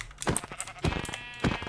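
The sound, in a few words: sheep bleating in a video game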